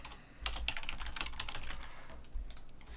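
Fingers type a subject line on a computer keyboard, quick irregular clicks in short bursts and then a pause before a few more taps, close and fairly quiet with no speech.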